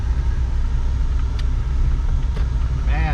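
Suzuki Grand Vitara driving and turning, a steady low engine and road rumble from inside the cabin with a faint whine rising near the end.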